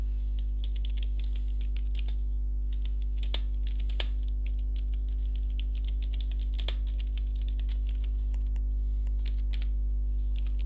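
Steady typing on a computer keyboard, with a continuous run of light key clicks and a few louder keystrokes over a constant low electrical hum.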